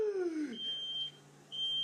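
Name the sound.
smoke alarm beeping from oven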